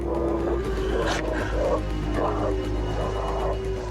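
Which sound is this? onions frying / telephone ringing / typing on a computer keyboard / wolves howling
wolves howling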